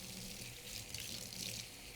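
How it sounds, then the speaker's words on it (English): A kitchen tap runs steadily into a sink while hands are rinsed before cooking, a close, even hiss of flowing water with no talking. "We're going to rinse our hands, rinse them well."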